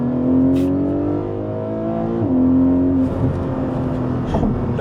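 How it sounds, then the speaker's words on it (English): A Porsche Cayman engine drones close and loud with rising harmonic pitch, drops sharply midway, then picks up again with a quick blip on the downshift, ending in rougher revving. "And it even blips on the downshift like a lot of cars do."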